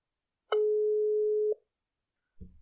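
A telephone call tone sounds while a podcast guest is being phoned: one steady electronic beep lasting about a second, then silence, then a low muffled click as the line picks up.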